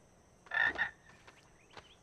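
A frog gives a short double croak, close and fairly clear, followed by faint chirps and clicks in a quiet background.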